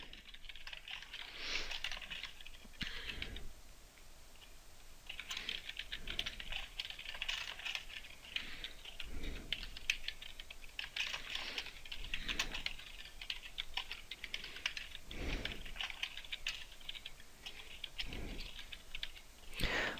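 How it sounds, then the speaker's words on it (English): Someone types data into an Excel spreadsheet on a computer keyboard, producing a steady, quiet clatter of keystrokes with brief pauses between bursts, continuing for about twenty seconds with no talking. "So go ahead and key in all of the data that goes in column A."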